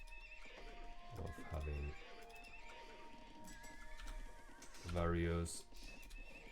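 Age of Empires II horses give two loud, close neighs amid game sounds and faint hoof clatter, with someone commentating over the action.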